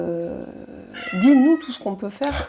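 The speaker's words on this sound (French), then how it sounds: "c'est le chat" Cat meowing with drawn-out, wavering calls close to the microphone, heard alongside someone speaking French indoors.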